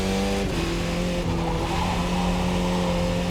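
An F2000 race car's tires squeal and slide at Pocono South in the iRacing sim, a loud sustained screech over droning engine tones that dip and shift, continuous and close.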